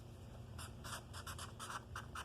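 Quiet pen strokes scratching on paper as a math problem is worked out, a string of short, light scrapes in quick bursts over a faint steady background hiss.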